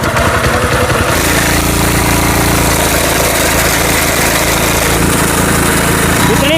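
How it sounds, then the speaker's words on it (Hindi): An S Raja Bhai machine saw on a power tiller cutting thick wood, a loud constant engine drone with a harsh grinding roar that stays steady throughout. "इतनी मोटी लकड़ी को फटाफट काट रही है मशीन, सेकंडों में, चुटकियों में।"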